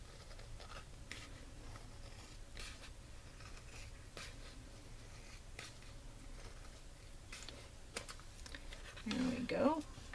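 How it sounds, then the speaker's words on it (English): A rubber stamp design being cut out, with soft scratchy snips and small ticking clicks scattered through a quiet room, plus a slightly louder rustle near the end. "And so I'm just cutting this out."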